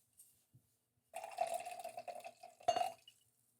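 White Sancerre wine poured into a wine glass, a steady liquid gurgle and trickle lasting about two seconds with a brief clink near the end, close and fairly quiet in an otherwise still room.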